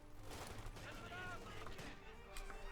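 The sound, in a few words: machine gun fire in Company of Heroes 2 video game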